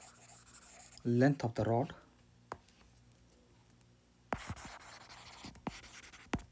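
Chalk or marker scratches and taps on a board during a physics lesson, a steady rasping stroke followed by sharp ticks, after a short spoken phrase.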